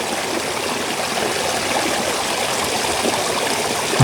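A village stream runs steadily past a lane beside residents' gardens, a constant close rushing and gurgling of flowing water with no pauses.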